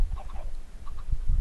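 Minecraft chickens kept packed in a single-block farm make short clucking sounds in scattered bursts. The sound is close and moderately loud and plays over a low rumbling background, with no talking.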